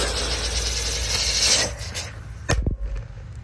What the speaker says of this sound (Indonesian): Kita nyalakan gangsing UFO guys di dalam toples.